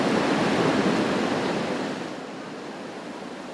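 Ocean surf rolling onto Jax Beach during July 4th crowds, a broad steady wash of wave noise that swells loud and then eases into a softer roar, no voices distinguishable.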